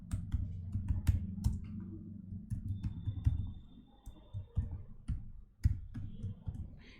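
Irregular clicking of keys on a computer keyboard, close and fairly clear, in short uneven runs of taps with small pauses, and no talking over it.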